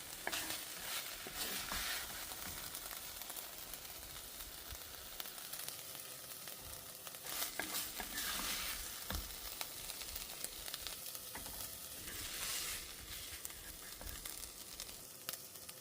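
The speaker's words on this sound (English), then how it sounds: "saute, and get a little browning on the steak" Steak browns in a pot, giving a continuous low sizzle and spattering fry with occasional stirring bursts, close but fairly quiet throughout.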